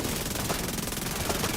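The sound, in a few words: gunfire in the video game The Division 2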